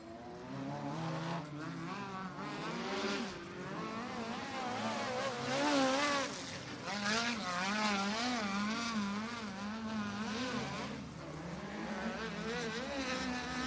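USAC Western States midget race cars roar around the Santa Maria Speedway oval in a heat race, several engines whining and buzzing loudly together, their pitch rising and falling as they pass, with no talking.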